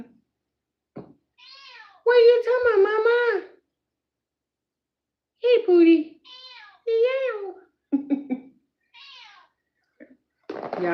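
A cat meows several times, drawn-out and wavering calls spread through the stretch, close and loud, with a person speaking briefly between them.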